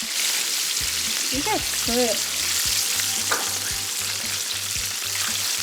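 Chicken wings deep-frying in hot oil for fish sauce wings give a steady, loud, close bubbling sizzle throughout, with a low rhythmic thumping beneath and a brief voice near the start.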